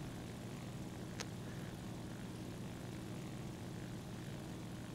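The propeller engine of a Kawanishi N1K2 Shiden Kai fighter in War Thunder, at high altitude, drones steadily and loudly throughout with a constant broadband roar and no speech.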